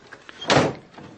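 A classroom door is pulled shut quickly: one solid thud with a brief rattling burst, close and alone against a quiet background.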